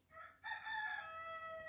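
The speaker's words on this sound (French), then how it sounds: "Le coq aussi, il est content d'être là." A rooster crows in one long, bright call that swells after a brief lead-in and holds steady, fairly close and clear over faint background noise.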